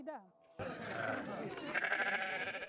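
Sheep bleat at a spring shearing festival in a cleaned barn. After a short wavering cry, a loud clamour of overlapping bleats and livestock noise fills the rest of the moment.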